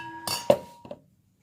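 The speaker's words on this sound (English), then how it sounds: "we're going to spoon them into our muffin liners now" A few quick clinks and scrapes of spoons against a bowl while muffin mix is spooned into muffin liners, two sharp taps followed by a smaller one, close and clear, then silence.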